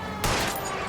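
A burst of gunfire in the L.A. Noire driving chase, fired at a fleeing car's tires: one sharp loud onset followed by a dense, ringing volley that sustains under the engine and road noise.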